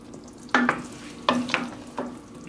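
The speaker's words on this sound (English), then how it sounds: "I'm going to add a little bit more of the lobster mushroom stock in here" Liquid mushroom stock poured and stirred into a simmering pot of vegan seafood gumbo, three short splashy scrapes of a spoon against the pot over a low bubbling hum.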